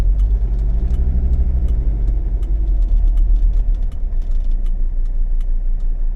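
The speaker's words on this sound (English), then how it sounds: "There's a bus coming up." A bus coming up in street traffic: a loud, steady, close engine rumble drones on without a break, with heavy low-pitched idling tones throughout.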